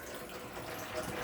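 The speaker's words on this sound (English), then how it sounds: "when the water is running continuously out of every tap, as it is now, you can shut all of the taps off." Water streams steadily from the taps of a camper after the water pump is switched on, a faint continuous hiss and splash with no breaks.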